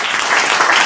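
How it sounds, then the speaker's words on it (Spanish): An audience claps in a burst of dense, even applause, loud and close, lasting under a second. "quiero que aplaudáis"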